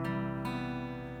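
Guitar chord shape fretted with the third finger on the third fret and the second finger on the second fret, two soft close strums ringing out quietly and sustaining.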